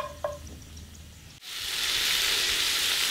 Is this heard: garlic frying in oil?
yes